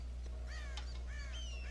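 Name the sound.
crows cawing, from the video game Red Dead Redemption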